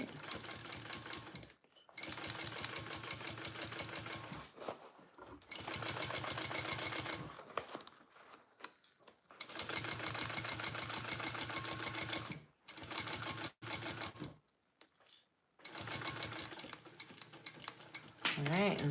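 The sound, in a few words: sewing machine sewing a Karvi mini backpack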